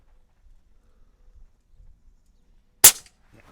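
A single sharp crack from an AirMaks Arms Katran .25 airgun fired on an outdoor range, loud and close after a near-silent pause, with a brief tail and faint rustling around it.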